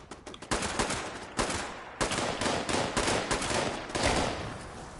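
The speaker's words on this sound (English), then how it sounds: "The machine gun turret." Machine gun turret firing in the video game Fallout 76, loud dense bursts of rapid automatic fire repeating steadily with brief breaks between volleys.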